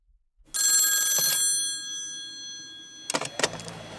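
Telephone bell ringing for an incoming call, a loud ring that fades out, then after a pause a short second burst.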